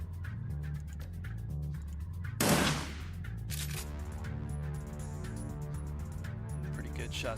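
A short burst of gunfire in the turn-based game Shadowrun Dragonfall, one loud noisy blast rising over steady game music, then fading quickly.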